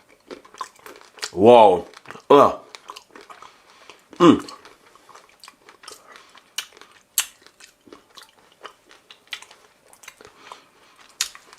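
Someone bites and chews food, with crunchy bites and wet chewing at close range, mixed with short vocal exclamations and sporadic clicks in a quiet room.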